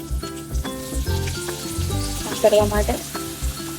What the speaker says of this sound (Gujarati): આ બાજુ છે અમૂલ બટર અને આની અંદર હું નાખી રહી છું ઓનિયન